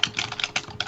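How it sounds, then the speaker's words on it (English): Someone typing on a computer keyboard: a quick, uneven run of close, crisp key clicks over less than a second, with no voices. "somebody's typing"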